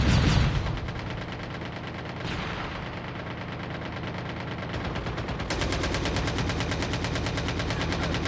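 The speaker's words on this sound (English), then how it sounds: "The whole squad here shooting toward the Persian girls." Sustained automatic gunfire in Call of Duty: Mobile, a loud, dense rattling stream of rapid shots from several weapons at once, continuous for the whole stretch with no pauses and no talking.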